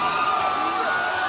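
High school fans of the Taft boys' volleyball team cheering and whooping in a gym at a 2006 championship match, a dense, continuous crowd roar.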